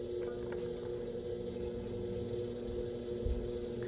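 Pottery wheel spinning with a steady low motor hum while a bowl is trimmed on it, a continuous drone with faint scraping from the trimming tool.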